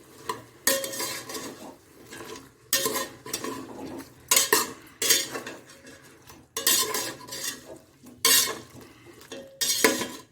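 Mutton being stirred in a pot with ginger garlic paste and salt over a low gas flame, with repeated bursts of spoon scraping and clattering against metal amid soft sizzling, close and irregular.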